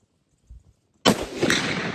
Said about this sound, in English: let's bust off this 300 Win Mag unsuppressed and see, do we really need a suppressor?